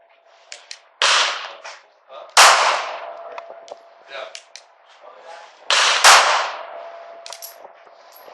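Test-firing of a .380 pistol outdoors: three loud, sharp cracks spaced a couple of seconds apart, each with a ringing tail, mixed with fainter clicks and handling noises between shots.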